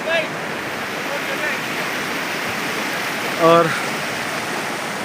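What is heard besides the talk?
river flowing over stones in Kumrat Valley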